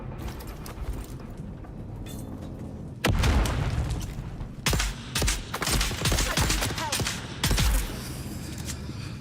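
Loud grenade explosions and bursts of gunfire in the sci-fi survival game Dune: Awakening, a steady mechanical rumble underneath, then several heavy booming blasts in quick succession over the second half.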